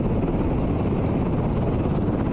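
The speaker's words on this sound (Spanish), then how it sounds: "evacuaron en helicópteros Black Hawk a 150 campesinos" Black Hawk helicopters evacuating farmers during an Air Force rescue, a steady close rotor thump and engine roar holding level throughout, with no voices.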